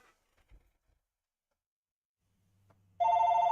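A phone starts ringing loud and close from an unknown number, a steady electronic ring tone beginning after a near-silent stretch with a few faint knocks.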